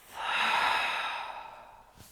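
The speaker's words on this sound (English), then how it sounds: "Inhale through the nose. Exhale out the mouth." A single long, soft exhale out through the mouth after a nasal inhale during a power yoga session, swelling and then slowly fading over about two seconds, close and breathy.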